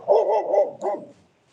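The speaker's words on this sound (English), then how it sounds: "I can't do anything about the doggy behind me here" Nearby dog barking in three or four quick, loud woofs in a row, followed by a last bark and then quiet.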